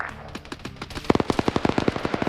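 Small arms gunfire in an Arma-style military video game, a rapid run of sharp automatic shots that grows louder and more regular partway through, with no talk.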